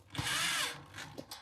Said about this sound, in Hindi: अभी से यहाँ पे टाइट कस देना है इसे ड्रिल मशीन से